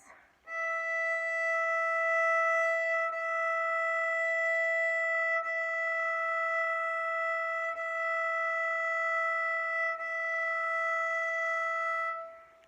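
A single sustained violin note on the open E string is bowed steadily for about twelve seconds, with several smooth bow changes along the way. The note is clear and bright, heard alone.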